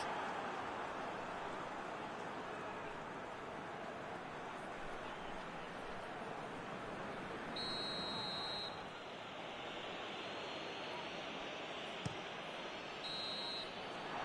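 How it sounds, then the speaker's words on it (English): A referee's whistle sounds for half-time in a football video game: two short, shrill blasts, a few seconds apart, over steady crowd roar, faint overall. "Referee's had a look, and he's blown his whistle for half-time."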